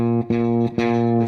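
Guitar strings on a badly set up neck pulled back, strummed twice, each chord sustaining with a gritty, distorted buzz from the frets, close and loud with no talk.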